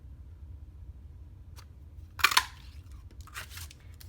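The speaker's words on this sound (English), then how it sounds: "now we are going to cut it out with this punch" A hand paper punch cutting a shape out of cardstock while making a birthday card: a brief, sharp crunching snap near the middle, followed by a few lighter clicks and rustles over a low background hum.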